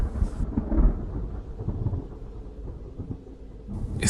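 Heavy thunder rumbling from a nearby lightning strike during a storm, a deep loud roll lasting several seconds with rain and wind in the background.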